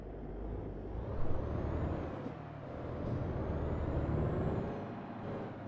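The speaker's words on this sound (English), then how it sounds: "Really got to stand on the brakes in this truck." Air brakes on a truck in Euro Truck Simulator 2 give several short, sharp hissing bursts over a low, steady engine rumble.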